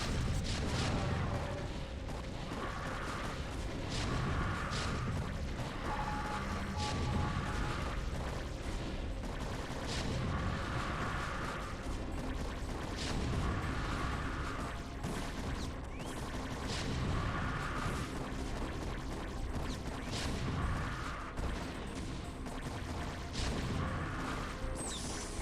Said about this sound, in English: Across the bridge, siege tanks doing siege tanky things as per usual.